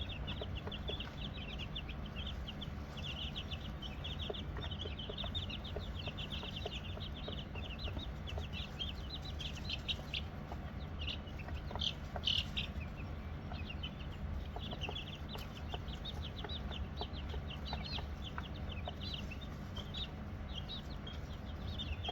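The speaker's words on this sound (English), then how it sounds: "So my baby chicks are about 2 weeks old now, so I introduced some greens, some dandelion leaf," Two-week-old baby chicks peck at greens and dandelion leaves, with steady soft cheeping and clucking throughout over a continuous low background hum.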